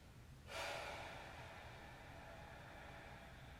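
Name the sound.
slow breathing during yoga practice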